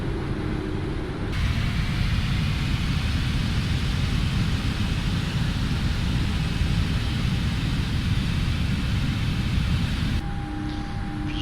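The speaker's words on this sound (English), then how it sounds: "And we're airborne, gears coming up." A PMDG 777F freighter airliner climbs out after takeoff in the Prepar3D simulator, its engines a loud, steady broadband roar held continuously for about nine seconds, with quieter cockpit hum at the start and end.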